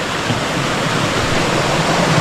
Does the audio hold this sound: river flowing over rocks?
yes